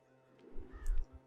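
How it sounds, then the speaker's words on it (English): Crows cawing in the game Child of Light, with a few low, hoarse calls in quick succession at moderate volume, set over quiet ambient music. "Everyone's been turned into crows."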